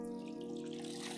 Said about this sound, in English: I'm draining the water so that it doesn't get too wet, the floor